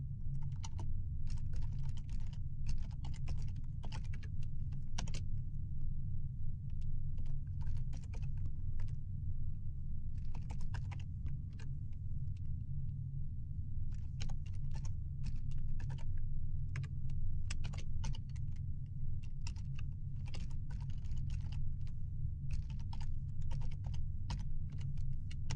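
Computer keyboard typing code, dense runs of quick clicking keystrokes broken by short pauses, close and clear over a steady low hum, with no talking.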